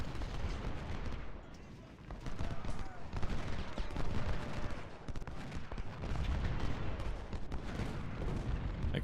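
Massed musket volleys from infantry brigades in the Civil War strategy game Ultimate General: Civil War, a dense, continuous crackle of overlapping gunfire and booming discharges that rolls on steadily throughout.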